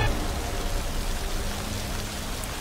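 Rain falls steadily in a film scene, an even, dense hiss of drops that continues unbroken throughout.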